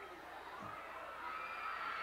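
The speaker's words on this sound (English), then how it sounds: "a pretty good Corbin crowd on hand for this football game" A high school football crowd at a Corbin vs Somerset game in 1991, a broad distant roar of cheering and shouting from the stands that swells slightly toward the end.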